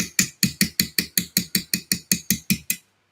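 A hammer taps a graver while engraving the top guard fittings of a Viking sword: about a dozen sharp, evenly spaced metallic strikes at close range in a brisk, steady rhythm, then stillness.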